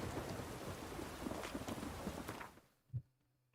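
Thunder in The Witcher 3 rolls over steady heavy rain and wind, a dense roar that cuts off abruptly, followed by a single low thump in the sudden quiet.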